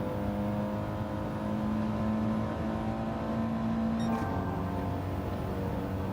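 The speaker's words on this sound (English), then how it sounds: "Wow, the Supra coming in hot." Toyota Supra race car in Gran Turismo 7 roaring past at high revs, a steady loud engine drone with a sharp pitch shift about two-thirds through as it passes close by, no talk.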